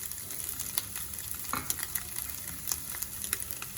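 Brown onions, chopped mint and coriander frying in a pan for vegetable haleem, a steady close sizzle with scattered crackles and pops running throughout, no voices.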